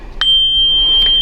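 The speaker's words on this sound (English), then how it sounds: "And this is our littlest bell, the G7," The smallest handbell in a bell choir, tuned to G7, is struck once and rings as a bright, high, sustained tone that hangs on clearly without any voices.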